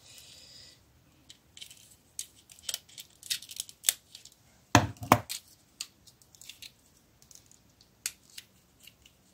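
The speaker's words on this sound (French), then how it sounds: "j'ai coupé la boîte" A cardboard box for Miniverse toys being cut open with scissors; a sequence of sharp snips, scrapes and small clicks at close range, with quiet pauses between the cuts.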